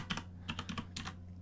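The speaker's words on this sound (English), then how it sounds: "this keyboard is like loud as shit" Loud clacky computer keyboard typing during a Dungeon Crawl Stone Soup game session: a quick cluster of sharp, close keystrokes in uneven bursts over a faint steady hum, with no talking.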